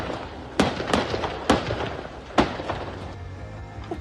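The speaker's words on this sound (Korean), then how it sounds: "폭발음이 여러 차례 들리고" Explosions at a large fire at an outdoor concert venue in Brussels, with several sharp distant bangs and thuds at uneven intervals over a steady rumbling background.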